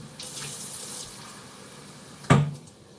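Tap water runs into a small container at a kitchen sink, a steady close stream through most of the moment, then a brief louder gush near the end before it stops. No one talks.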